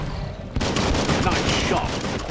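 Rapid gunfire crackles in the video game Biomutant, a dense burst of shots starting abruptly and continuing close and loud.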